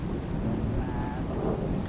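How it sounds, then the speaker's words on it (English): Rain pours steadily with a low, distant rumble of thunder rolling beneath it, a dense, continuous stormy wash without voices. "In the far distance, thunder drums like the beating heart of the underworld."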